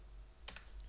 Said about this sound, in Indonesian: tekan R kemudian angka 90. Enter.